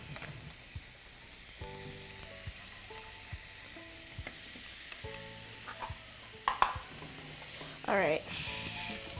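Vegetables and bamboo shoots sauté in a pan, with a steady low sizzle and scattered scraping and stirring clicks throughout, a few sharper scrapes near the end, and one brief spoken remark.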